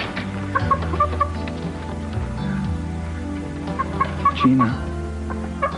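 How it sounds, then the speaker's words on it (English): A chicken clucks in a living room, its short clucks scattered through a busy soap-opera scene with music and a voice speaking briefly. "why is there a chicken in your living room?"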